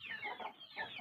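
A rooster gives two quick bursts of raspy clucking, near but faint, with no talk over it.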